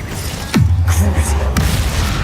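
Spell effects cast in Hogwarts Legacy, a sharp swooping burst followed by a booming impact and a second quick cast, loud and close, with no talk over it.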